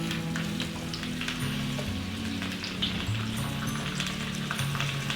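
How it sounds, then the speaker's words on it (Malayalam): Vegetables for aviyal fry in hot coconut oil in an iron pan, giving a steady, dense crackling sizzle with fine popping throughout, close and even with no pauses. "ഇനി ചൂടായ വെളിച്ചെണ്ണയിലേക്ക് നമ്മൾ നേരത്തെ എടുത്ത് വെച്ചിരുന്ന നമ്മുടെ വെജിറ്റബിൾസ് എല്ലാം കൂടി ഒന്ന് ഇട്ട് കൊടുക്കാം."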